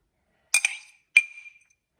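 A glass jar of pureed garlic clinks twice against a hard surface, two sharp bright taps about half a second apart, each with a short ringing tail in an otherwise quiet room.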